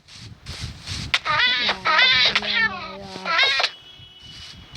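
A cat in the Minecraft video game meows repeatedly, a series of close, loud, drawn-out wavering cries with brief pauses, over soft background game sounds.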